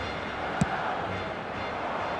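A stadium crowd in the eFootball 2026 football video game keeps up a steady, distant roar of massed voices, with one brief sharp knock early on and no clear talk.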